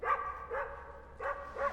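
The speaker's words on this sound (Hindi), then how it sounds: "सर आपने कोई नया कुत्ता पाला है? Is it a Pomeranian? Bulldog है।" A bulldog barks four times in two pairs of loud, close, harmonic barks with brief pauses between them, and nobody speaks.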